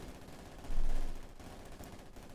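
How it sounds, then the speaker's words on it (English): Submachine gun fire in the World War II strategy game Company of Heroes 2, a dense, muffled rattle of automatic shots that swells for about half a second amid a busy battle din. "A devastating deluge of death unleashed by the submachine guns."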